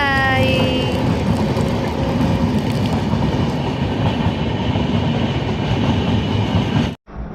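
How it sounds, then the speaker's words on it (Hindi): A train rolls past close to a house, a loud and steady rumble of wheels with rhythmic clickety-clack and a brief horn at the start, lasting about seven seconds before it cuts off sharply. "और ये देखिए हमारे घर के पास से ट्रेन गुजर रही है"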